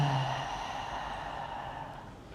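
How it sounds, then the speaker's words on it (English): A person takes a deep breath and lets it all out in a long, audible exhale during a guided breathing exercise, close and clear with no talking. "One more breath in, and then all the way out."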